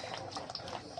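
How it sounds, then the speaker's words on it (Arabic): Liquid tomato sauce pours and bubbles through a strainer in a soft, continuous wet gurgle, faint and close with no pauses over about a second. "انا ابتديت اصفي اهو الصلصه"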